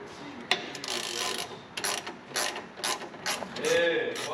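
A 5/8 ratchet clicks through several short, uneven bursts of close, sharp mechanical ticking, with faint background noise around it and no clear speech.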